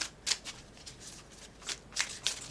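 Tarot cards riffle and slap as they shuffle and spill out of the hands, giving several sharp papery bursts over a quiet background.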